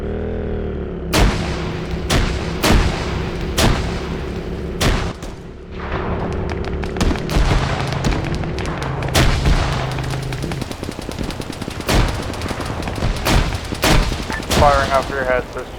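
Gunfire going overhead in a combat exercise near white buildings: sharp, loud cracks, some single and some in quick bursts, over a steady drone and background voices.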